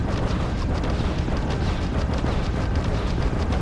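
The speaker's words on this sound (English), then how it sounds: "let's start firing all weapons" A spaceship in Starfield fires all its weapons in combat, a dense, continuous roar of blasts and booms at steady high loudness with no gaps, no voices.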